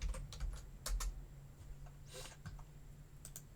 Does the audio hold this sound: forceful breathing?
no